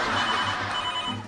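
A mobile phone rings during a comedy show, a repeating electronic ringtone with pulsed beats, loud and close and heard alone without talk.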